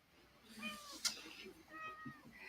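A cat meows in several drawn-out, wavering calls, close and fairly clear, with a brief sharp noise in between and no talk.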